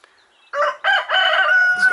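A rooster crows once on a spring smallholding, a loud, close cock-a-doodle-doo starting after a short pause and holding a strained final note.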